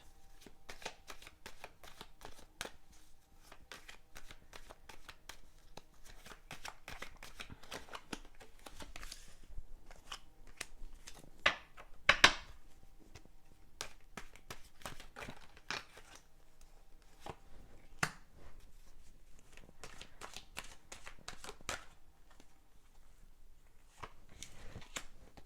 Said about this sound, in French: J'ai fait mon petit tirage de cartes avec l'oracle des miroirs